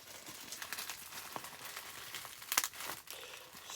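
Protective packaging being cut and crinkled while unboxing an iPhone 8 box: close, irregular crackling and rustling with a sharper snap near the middle, no talk.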